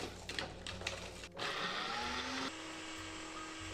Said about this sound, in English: we're gonna use our Foodie Ninja blender to blend our chiles